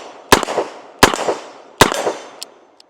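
A Smith & Wesson Model 19 revolver fires .38 Special rounds in double action: three loud, sharp reports roughly 0.75 seconds apart, each followed by a brief echoing decay, then a faint metallic click.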